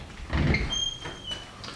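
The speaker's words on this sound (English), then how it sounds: "on the outside we have a nice set of French doors that open wide" French doors of a new woodworking shop swinging open wide: a brief rumble and thud, then a faint, high hinge squeak drawn out over a second, heard up close with no talking.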